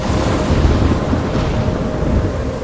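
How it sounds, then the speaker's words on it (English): Thunderstorm in the video game Life is Strange: a loud, continuous roar of heavy rain and rumbling thunder that fills the whole stretch, steady and close with no talking. "What's happening? I'm trapped in a storm?"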